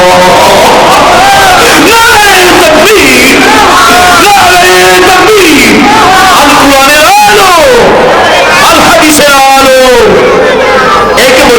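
A gathered crowd at an Islamic sermon in Bangladesh roars 'Allahu Akbar' in answer to the Nara-e-Takbir call: loud, massed, drawn-out shouts rise and fall in repeated waves, filling the whole stretch.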